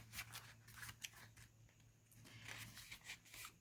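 Scissors snip small pictures out of an old photo album in a run of quick, crisp cuts, close and quiet, with a low steady hum underneath.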